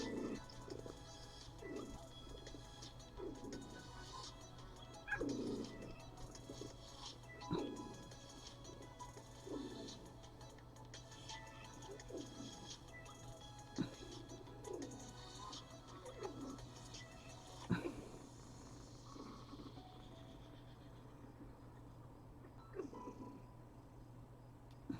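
A female cat chirps again and again in a series of short, bright calls spaced about a second or two apart. A low, steady hum runs underneath throughout.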